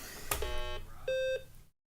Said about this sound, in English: We like that beep.